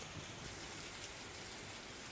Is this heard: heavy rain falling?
yes